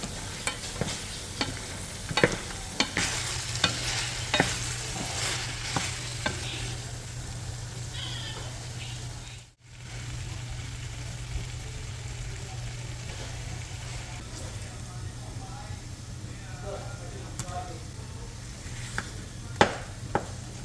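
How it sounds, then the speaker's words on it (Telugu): Chicken fries in a new steel pan for a curry, with a constant sizzling hiss and irregular metallic scrapes and taps as it is stirred. The sound runs close and continuous, with one brief dropout in the middle. "చికెన్ ఒకసారి మంచిగా కలబెట్టేసుకొని నెక్స్ట్ మూత పెట్టేసి ఇంకొంచెం సేపు కుక్ చేసేసుకున్నా"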